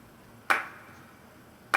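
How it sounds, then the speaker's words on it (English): Two sharp, layered hand clap samples in a music production, one panned right and one left, each a bright snappy hit with a short decaying tail, spaced over a second apart against near silence. "And then what I've done is layered that with just a couple of hand claps."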